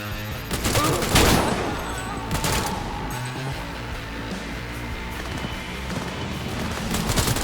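A dense fusillade of gunfire in Cyberpunk 2077, loud clustered shots early on that give way to steady crackling combat noise with scattered pops.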